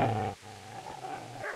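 A dog in Kingdom Come: Deliverance growls low and close, guarding its master, in a sustained rumble that breaks off and then resumes more faintly.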